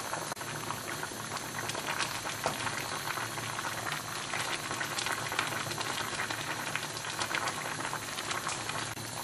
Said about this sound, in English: especially as the broth is boiling